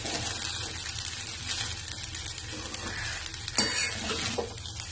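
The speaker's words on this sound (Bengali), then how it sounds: "এরপর আমি এর মধ্যে সাবুদানাটা মিশিয়ে দেব।" Sago is stirred into fried vegetables for sabu polao, with steady broadband sizzling and scraping from the pan throughout and a few louder clinks of the spoon near the end, no voices.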